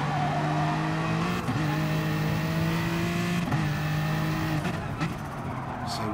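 An Aston Martin supercar in a racing video game at Interlagos, its engine a loud steady tone that dips briefly at gear changes and climbs again under acceleration, with no talk over it.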